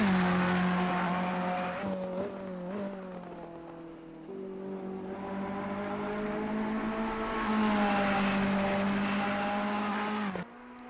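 Ferrari race car lapping a circuit in Assetto Corsa Competizione, its engine droning steadily and loudly, with the pitch shifting as it climbs through the revs and drops through gearshifts, alone without talk.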